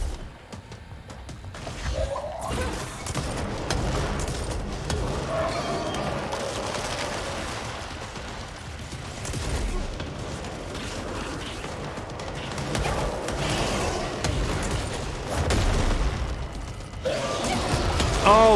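Rocket launches and explosive impacts in the video game Control, set amid dense, continuous combat noise: crashes, mechanical clatter and gunfire-like bursts at a steady high level throughout.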